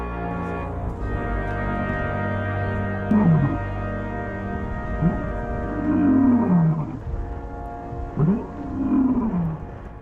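Big wild cats roar in deep, rumbling calls, three loud groaning roars spaced a few seconds apart over a sustained low musical drone.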